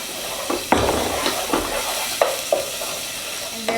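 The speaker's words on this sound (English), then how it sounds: "I'm going to add some minced garlic to my pan" Minced garlic sizzles and crackles in hot olive oil in a pan, with a few sharp stirring knocks and scrapes cutting through the steady frying hiss, close by and with no talking.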